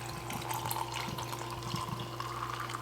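A pre-made coffee drink poured over ice in a cup, a steady soft liquid stream with light splashing, quiet and close, no talking.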